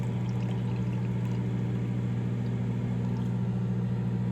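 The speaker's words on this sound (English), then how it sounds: "You just pour in a little bit of tea." Tea streams steadily into a cup, a continuous soft pouring wash with a low rumbling tone, fairly quiet and close, ending with a small knock at the very end.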